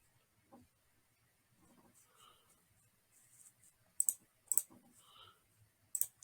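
Sharp mouse clicks while a Wix salon website is edited, a few scattered soft clicks early and then several louder distinct clicks in the second half, close and dry in a quiet room.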